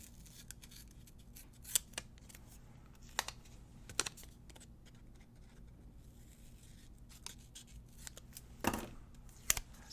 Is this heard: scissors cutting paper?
yes